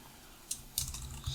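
A few light, scattered keystrokes on a computer keyboard while typing a chat message, soft and close, separated by short quiet gaps.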